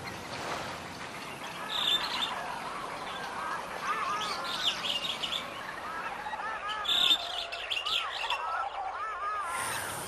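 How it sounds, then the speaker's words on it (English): A family of oystercatchers, adults and a nearly fledged chick, calls along a bay shoreline beside a bird sanctuary in Hillsborough Bay, with repeated shrill piping notes over wind and background noise. "on the shoreline here is a family of oyster catchers, both adults and almost a fully feathered chick"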